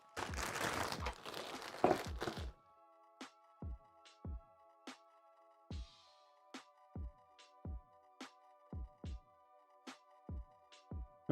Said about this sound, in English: Let's get the plastic bags and all that stuff out